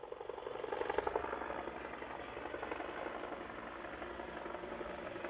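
Faint, steady droning rumble of a helicopter passing overhead near an Air Force base, heard distantly during a softball game with an even, slightly pulsing tone throughout.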